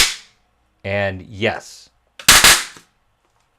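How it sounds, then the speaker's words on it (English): A SOLA SDN 5-24-100P power supply gives one sharp, loud pop at power-up, a short crackling burst that comes right after a man's brief speech. "Let's try to power it up again and see if it pops."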